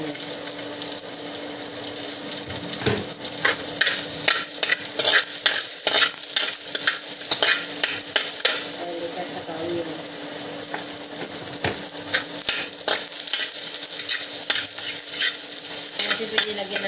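Onion sizzles in oil while a utensil stirs and scrapes the pan for pancit miki bihon, a steady close frying hiss with repeated clinks and no one speaking.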